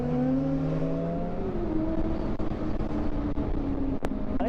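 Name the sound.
truck approaching fast on the road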